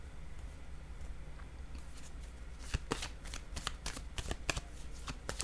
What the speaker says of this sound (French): Je vais déposer une carte encore ici.